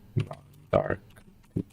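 A few separate clicks on a computer keyboard as a shortcut is pressed, arriving in short clusters with pauses between them, close by and at moderate volume.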